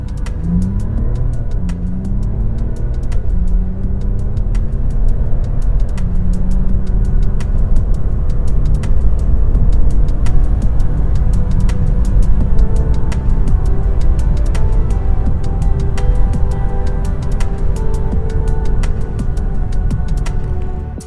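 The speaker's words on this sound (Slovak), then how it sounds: "ako to auto s takou noblesou a gráciou dokáže zrýchlovať aj v tých vysokých rýchlostiach" A 2021 Mercedes-Benz S400d 4Matic Long diesel accelerating at high speed on a German Autobahn, heard from inside the cabin: a steady, loud low rumble of road and wind noise with faint engine tones climbing in pitch early on, and no talking.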